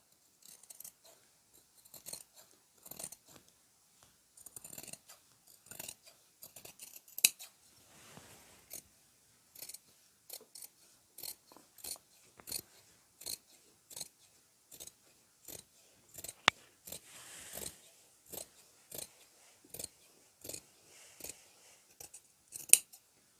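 Fabric shears snipping through a quilted vest front piece, dozens of crisp, close cutting snips in an irregular steady rhythm with brief pauses between runs, no talking.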